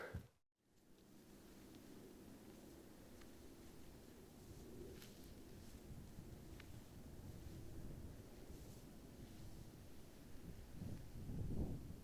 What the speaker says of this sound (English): that freaking wind on the north face is freaking wild